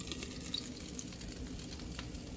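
Popcorn in a covered pot on a stovetop burner, popping slowed to a steady frying sizzle with a few scattered faint pops, close and continuous with no talking.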